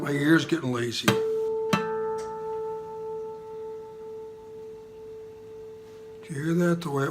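A guitar harmonic on the A string rings out while the guitar is tuned, a pure sustained tone that starts after a pluck and fades slowly, with talk before and after it.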